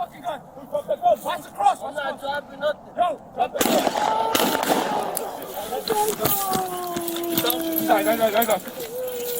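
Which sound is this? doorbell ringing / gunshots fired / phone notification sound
gunshots fired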